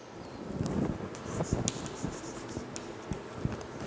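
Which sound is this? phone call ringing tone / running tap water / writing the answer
writing the answer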